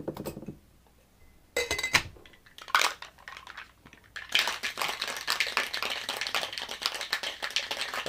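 A Flaming Moe cocktail being shaken without ice, giving a burst of rattling, crunchy clatter that starts loud after a few quieter knocks and continues steadily to the end, close up.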